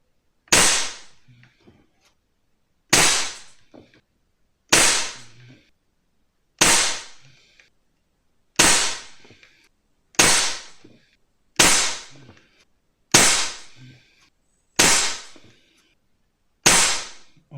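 Air rifle firing JSB RS Diabolo pellets through a Langley silencer at 10 m: nine sharp, evenly spaced cracks about two seconds apart, each with a brief decaying tail, close and loud with nothing else between shots.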